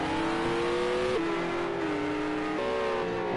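A Porsche GT3 race car engine in the Project CARS 2 racing game drones at steady high revs, pitch dipping and climbing with gear changes, loud and continuous while running behind a Renault.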